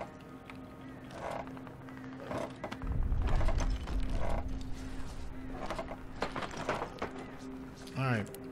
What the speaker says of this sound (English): I'm gonna send Pavel to open up this door right here.